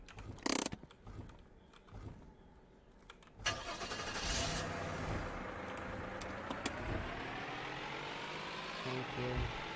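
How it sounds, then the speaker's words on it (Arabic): In a YouTuber simulator game, a car engine cranks and catches after a sharp click, then settles into a steady mid-pitched running drone that holds to the end. "طبعا نروح نشتغل لازم نروح بالسيارة"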